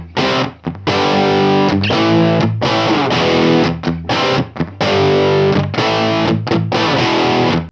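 Electric guitar played through a Universal Audio Lion 68 Super Lead amp: loud, heavily distorted chords and riffs in rhythmic bursts with short gaps, with a roomy ambience.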